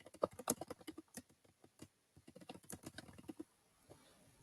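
Rapid, close keyboard typing entering a first and last name into a form, a dense run of crisp keystroke clicks with brief pauses between bursts, alone and without speech.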